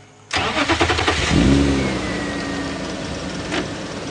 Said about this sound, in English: although they are reacting when we start the car